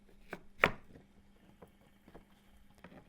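A knife cuts zucchini into half wedges on a board, giving one sharp chop followed by several lighter, quieter taps, close and isolated without talk.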